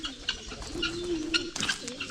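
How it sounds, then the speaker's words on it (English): Low, rolling pigeon coos swell and repeat close by on an African morning, mixed with sharp bird chirps and a brief flutter-like burst, with no one talking. "Guys, that's the pigeon we are looking for"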